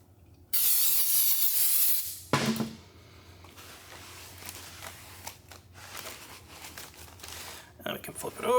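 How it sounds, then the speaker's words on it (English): Brake cleaner sprayed onto new front brake parts for a 2006–2016 Chevrolet Impala gives a loud, close, steady hiss lasting about two seconds, then stops and gives way to quieter handling noises and faint shorter spray bursts. "some solvent or brake clean or carburetor spray and give that a nice hose down"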